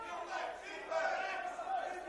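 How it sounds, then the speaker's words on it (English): Supporters at a men's NPL NSW football match between Sydney United 58 FC and APIA Leichhardt FC raise a steady, distant roar of shouts that swells louder partway through. "crowd urging him to keep possession for a little bit"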